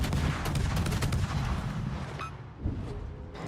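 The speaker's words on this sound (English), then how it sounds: "They see me and immediately shoot at me." Heavy naval gunfire from World of Warships battleships pounds toward the player's ship, a dense run of booming shots and rumbling impacts lasting several seconds, loud and close, with a brief lull then another thud near the end.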